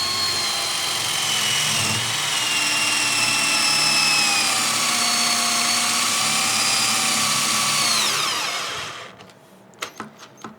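A cheap 12V battery drill drives a screw with a steady, loud whine whose pitch sags as the motor strains, then cuts out and leaves a few faint clicks and knocks.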